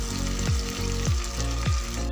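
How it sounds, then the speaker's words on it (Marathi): Curry leaves and chillies sizzle hard in hot oil as a tempering for coconut chutney, a loud close crackle with a few sharp pops spaced through it. "ते चांगली फोडणी होत आलेली आहे."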